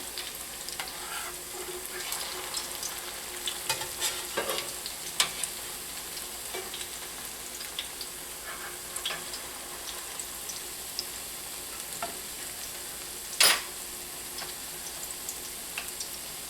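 Squash fritters fry in a pan with a steady, close crackling sizzle. Scattered pops and ticks run through it, and one louder clink or spatter stands out near the end.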